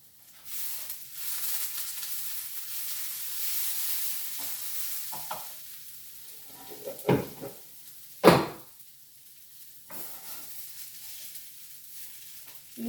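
Shrimp dropped into a hot frying pan of noodles, giving a steady soft sizzle with stirring scrapes and a couple of sharp clatters of utensil on pan, close by.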